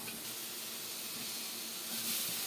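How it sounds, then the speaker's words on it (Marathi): Tomatoes roasting in a pan for a home-cooked gravy give off a steady, close sizzling hiss that swells slightly toward the end, with no talking. "घेतलाय त्यात टोमॅटो भाजून घेते"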